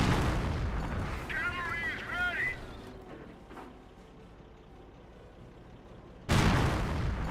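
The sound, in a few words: artillery and gunfire in the video game Company of Heroes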